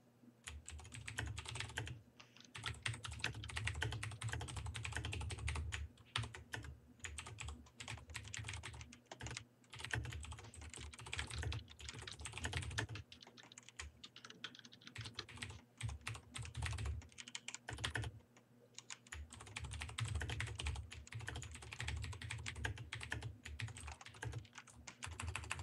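Rapid, continuous typing on a computer keyboard in a basement room, close and steady, with dense clattering keystrokes and a few short pauses throughout.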